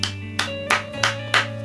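Five sharp, evenly spaced hand claps ring out over a steady low background hum, each a distinct loud slap about a third of a second apart, given as a rating.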